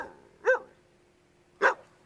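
A lost dog roaming a college campus gives two loud, sharp barks about a second apart, with quiet background between them.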